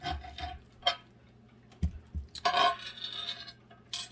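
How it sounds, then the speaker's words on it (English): A knife cuts cabbage on a cutting board with crisp crunching slices and taps, irregular strokes coming in short bursts with pauses, close and moderately loud. "First, I'm cutting up some cabbage."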